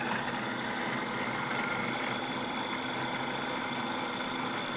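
Food processor whirring through a shishito pepper and goat cheese mix with lemon juice: a steady, unbroken motor drone at constant speed, close and fairly loud, with no talking.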